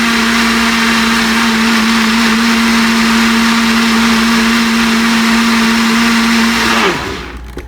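An electric mixer beats golden malted waffle batter on its second mix, a loud, steady whirring hum that holds for several seconds before winding down at the end.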